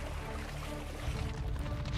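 Flowing, sloshing water effect in a Magic: The Gathering Avatar: The Last Airbender trailer, a steady, dense wash of splashing and pouring that swells slightly midway, heard alone without speech.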